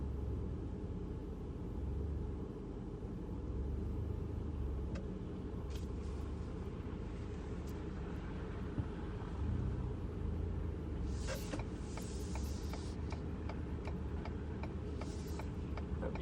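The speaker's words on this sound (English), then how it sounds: "A lot of traffic, probably people looking at everything." Steady road traffic rumbles through snowy Boston streets after a blizzard, a constant low engine drone with a passing vehicle swelling midway and faint ticking and hissing brake sounds later.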